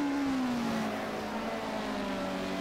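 A BMW M3 race car at Vitus Park, its engine note sliding steadily downward as it passes close by, loud and sustained with no talk over it.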